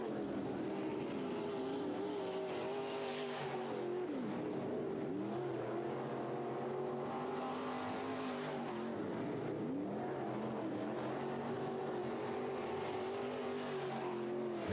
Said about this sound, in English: we've got IMCA Sport Mod hot lap session number 1